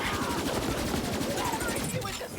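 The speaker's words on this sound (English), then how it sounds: "Some of these are warning shots." Rapid automatic gunfire from the video game Borderlands 3, Bounty of Blood DLC, a dense continuous rattle of close shots lasting a couple of seconds, with a voice faintly mixed in.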